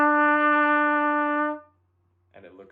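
One steady trumpet note E, fingered with the first and second valves, rings out clearly for about a second and a half, then stops, and a voice starts speaking after a short pause.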